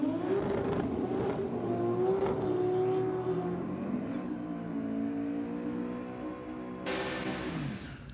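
A Holden Torana and a Ute drag race at a Sydney drag night, engines revving loud and rising in pitch through gear changes, then a sharp burst near the end, with no talk.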